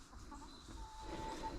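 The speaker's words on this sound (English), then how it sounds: "here's my baby chicken." A young pet chicken clucking softly nearby in a backyard at evening, with a thin tonal chirp near the end over a low steady outdoor rumble.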